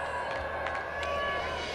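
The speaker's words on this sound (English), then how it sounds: "They're out for a loud cheer in support of Shan Masood." A cricket crowd roars in support of batsman Shan Masood during a Pakistan versus Bangladesh Test, a broad, steady wash of cheering held at an even level throughout.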